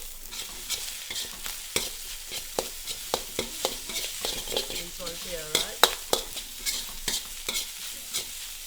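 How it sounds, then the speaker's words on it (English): Egg fried rice with pineapple is stir-fried using a big round metal ladle, sharp scraping clinks striking in an irregular rhythm over a steady sizzle of frying, near and moderately loud. "a lot of the Chinese cooks actually like using big round ladles to do their stir fry with"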